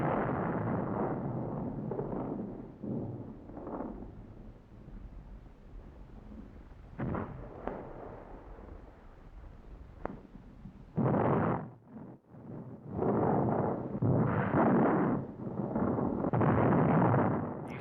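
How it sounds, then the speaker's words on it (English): Artillery firing on enemy field positions in wartime combat: heavy, rumbling booms and blasts, some distant and rolling, others closer and louder in clustered bursts, with no talk. "The artillery opens fire against enemy field positions and later shifts aim onto the town."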